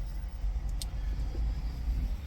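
A truck's engine rumbles steadily while driving, a low continuous road drone with a brief faint high rattle partway through; a black German Shepherd rides along.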